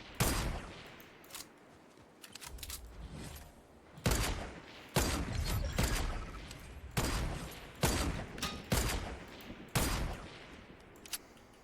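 Gunfire in Fortnite, a rapid sequence of sharp, loud shots in bursts with short pauses, close and punchy, with no talk over it.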